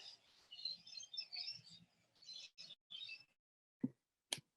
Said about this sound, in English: the birds outside of Elizabeth's room remind us to wake up